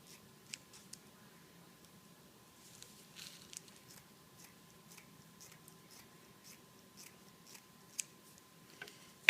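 Quiet, sparse snips of scissors cutting 21-inch deco mesh ribbon into roughly 12-inch sections, with soft rustling of the mesh between the sharp clicks of the blades.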